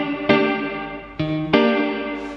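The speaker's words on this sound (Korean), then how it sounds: "요 플레이트 소리 좋아하시는 분들은 굉장히 좋아하실 것 같아요" Distorted electric guitar chords ring through a DemonFX Reverb & Delay Workstation pedal set to plate reverb, three strummed hits, each followed by a dense, metallic-sounding wash of decay with no voices.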